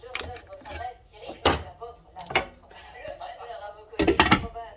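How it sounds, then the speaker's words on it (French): A lid goes onto a cooking pot of carrots on the stove, giving a few clattering metallic knocks and a final cluster of clanks, heard up close while a person talks throughout. "c'est parti, je mets le couvercle et je laisse cuire tout doucement"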